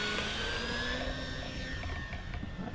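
An RC Dynam Spitfire MK.VB floatplane of 1200 mm span taking off from water, its electric motor whining steadily with rising tonal pitch, heard fairly faint from a short distance with no talking.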